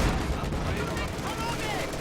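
An anti-tank gun in Company of Heroes 2 fires on an EZ8 Sherman tank amid dense, loud battlefield gunfire and booms, with a voice talking over the din.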